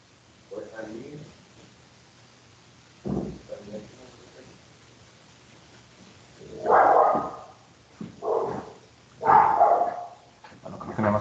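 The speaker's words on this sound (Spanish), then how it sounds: "el perro está llorando y quiere salir" A dog whimpers and gives short barks, wanting to be let outside, in several bursts separated by pauses, with a person's speech around it.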